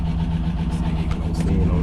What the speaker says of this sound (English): he was complaining about lifter noise on it